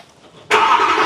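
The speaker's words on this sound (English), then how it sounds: "Right, cold start." A Ferrari engine cold-starts abruptly after half a second of quiet, jumping straight into a loud, steady, close-up roar that holds to the end.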